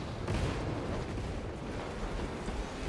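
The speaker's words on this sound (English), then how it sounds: "I got me a heavy bolt pistol." A heavy bolt pistol fires in Warhammer 40K Space Marine 2, a dense, continuous barrage of loud booming shots and blasts that fills the whole stretch with no pause.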